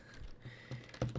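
Keys on a computer keyboard clatter in a short, quick burst of typing, close and fairly quiet, as an address is entered by hand.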